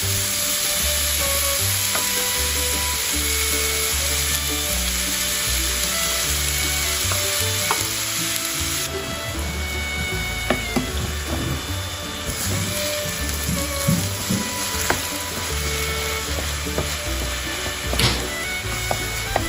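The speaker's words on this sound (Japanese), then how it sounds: "フライパンに油を熱し、ニンニクと生姜を炒めます。" Garlic, ginger, minced meat, onion, carrot, green pepper and paprika frying in oil in a frying pan for keema curry, a steady close sizzle with occasional stirring scrapes and clicks.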